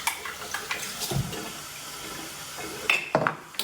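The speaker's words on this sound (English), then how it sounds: "give that a quick rinse" Espresso machine parts rinsed under a running tap while a latte is being made, with water splashing and gurgling in short bursts and a few clinks of metal near the sink, and no one talking.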